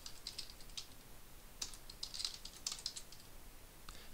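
Faint, crisp keystrokes tap on a computer keyboard in short scattered clusters, quiet and close against a soft background hiss.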